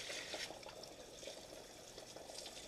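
Dirty brown water drains out of an aquaponics fish tank with a soft, continuous trickling and gurgling, faint and steady throughout.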